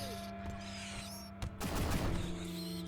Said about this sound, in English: Cypher, start shooting.